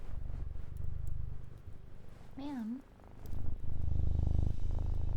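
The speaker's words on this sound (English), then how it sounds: "How are your purrs this loud?" A cat purring loudly right at the microphone, a steady low rumbling throb that fills most of the moment, broken by a brief spoken word and a short meow-like vocal.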